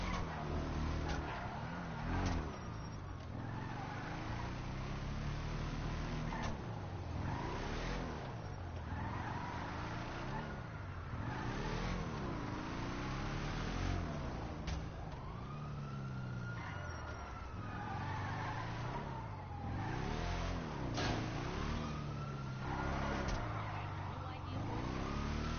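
A monster truck drives in GTA 5 Online, its engine revving in repeated rising and falling surges with tire skids and a siren-like wail mixed in, a loud, busy game soundscape throughout.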